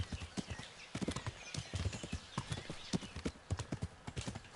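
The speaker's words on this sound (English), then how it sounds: "At least this horse can walk on bushes." A horse walks through bushes in the medieval game Kingdom Come: Deliverance, its hooves clip-clopping in a steady, moderately loud rhythm of distinct thuds with a faint rustle.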